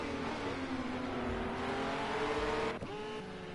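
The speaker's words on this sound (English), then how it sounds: "Your Megane's now coming to the line." A Renault Megane race car at Imola drones loudly with steady engine tone, rising slightly in pitch, then a quick gear shift drops the revs before it climbs again.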